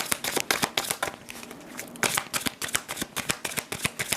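Witch tarot cards are shuffled and handled close up, crisp rapid riffling bursts with brief pauses between them.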